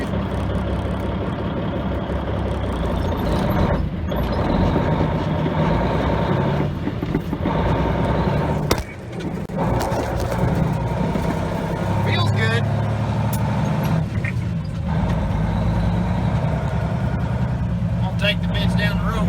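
A repaired truck's engine runs steadily on the road during a test drive, a continuous low rumble that holds throughout and dips briefly once, with people talking over it.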